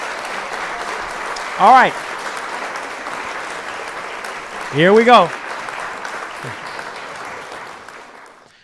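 Two short applause sound effects are dropped into gaming commentary, each a brief burst of clapping and cheering over a steady background. Someone speaks just before the first burst.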